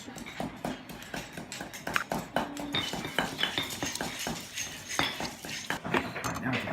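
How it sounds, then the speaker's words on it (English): Turmeric and chilies for Thai curry paste are mixed in a cooking class in Chiang Mai. A steady run of clinking, tapping and scraping of utensils on dishes continues with soft room noise behind it. "We're gonna mix up the turmeric and all the chilies."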